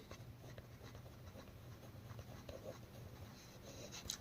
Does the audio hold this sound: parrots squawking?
no